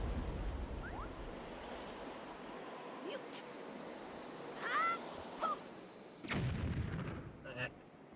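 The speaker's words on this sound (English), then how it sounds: "We throw a bomb in the pot." A bomb bursts inside a pot in Wind Waker HD, a sharp loud blast with a brief crumbling tail, preceded by softer game chimes and effects over a steady ambient background.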